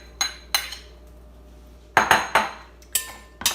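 Cut pear pieces with the peel left on drop into a bowl for a pear mango salad, giving several light clinks and knocks in small bursts, close and clear with no talking.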